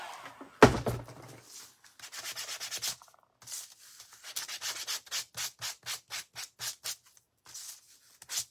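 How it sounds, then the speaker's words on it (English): Hand sanding of wood for a barn door sign stand: a sharp knock, then bursts of scratchy rubbing strokes that settle into an even back-and-forth rhythm of about a dozen close, loud passes. "We're going to sand."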